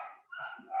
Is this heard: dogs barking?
yes